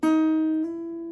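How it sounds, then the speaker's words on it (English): A single clear guitar note rings out on the high E string, sustaining evenly for about a second with no talking. "because now we're going to play the high E string."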